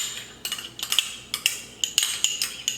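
A spoon or utensil scrapes and clinks against a bowl while stirring mayo and ranch dressing mix for a cranberry chicken salad, with repeated close, bright strokes in a steady irregular rhythm and no talking.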